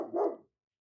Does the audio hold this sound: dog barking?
yes